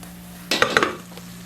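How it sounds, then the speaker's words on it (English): Celery sautes in a pan for pork chop dressing, a burst of sizzling with a few clinks of a utensil stirring against the pan, close, over a steady low hum. "my sauteing is really ready, because the celery and stuff is taking a little while for it to cook"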